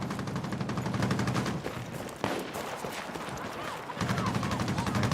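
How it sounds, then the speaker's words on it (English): Rapid automatic gunfire rattles in a video game shootout, loud and continuous bursts with brief gaps, while a player talks over the shooting. "Who's shooting at me?"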